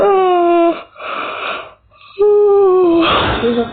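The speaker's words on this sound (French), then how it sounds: "Désolé que je baille, il est 6h35" A tired early-morning yawn, a long drawn-out voiced exhale that breaks off, pauses, then returns as a second stretched, wheezy yawn ending in a breathy sigh, close and loud.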